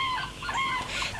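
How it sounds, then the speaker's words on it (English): A short squawking bird call, clucking like a chicken, heard close and alone for about a second. "The bird began to squawk."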